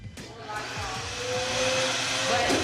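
A vacuum cleaner hums and whines steadily in a room, its motor tone slowly rising, with a brief voice near the start.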